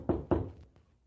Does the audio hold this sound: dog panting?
no